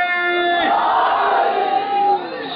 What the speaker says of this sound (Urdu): دونوں ہاتھ بلند کر کے نعرہ ہے